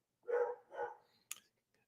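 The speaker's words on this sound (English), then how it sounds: "Is that my dog's barking?" A dog barks twice in quick succession at moderate distance, followed by a short sharp yelp, with quiet room tone around it.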